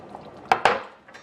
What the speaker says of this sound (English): I'm going to go in with my swizzle stick and I'm going to try and break up all that spinach